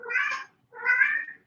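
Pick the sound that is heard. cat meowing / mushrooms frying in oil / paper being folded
cat meowing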